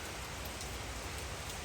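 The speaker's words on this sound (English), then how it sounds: "you're all looking at this rainy day here, or rainy moment" A rain shower in Kingston, Jamaica, heard as a steady, soft hiss of falling rain that stays even throughout, with no voices.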